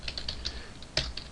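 Quick bursts of keystrokes clatter on a computer keyboard while Java code is entered, a close, fairly quiet run of uneven taps with one sharper press near the end.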